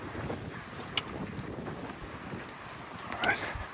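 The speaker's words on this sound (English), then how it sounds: "I say at least it's a warm wind." Strong warm wind buffets the microphone on a hillside hiking trail to an old fire lookout, a continuous rough low rumble with gusty swells, close and loud, with faint speech mixed in.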